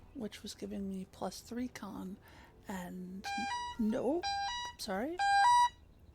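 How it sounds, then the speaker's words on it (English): A phone alarm reminder going off at a gaming session: bursts of harmonic electronic beeps in stepped patterns starting midway and growing loud, following someone talking over it at first. "That is my alarm to remind me to stream in an hour"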